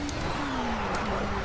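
A race car in Project Cars at Le Mans spins out under late braking, its engine droning loudly with falling revs alongside a steady tyre screech, one continuous close roar.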